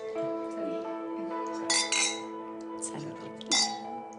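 Wine glasses touch in a toast, a few bright clinks with ringing tails, one pair around the middle and another near the end, set against quiet room tone with a voice briefly present.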